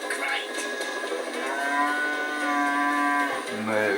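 A cow moos in the Budgie the Little Helicopter cartoon. One long, loud, harmonic moo holds steady for over three seconds, then a short lower sound follows at the end.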